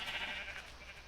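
Sheep in a video game bleat in a steady, slightly buzzy cry lasting about a second, moderately loud and heard alone without talk.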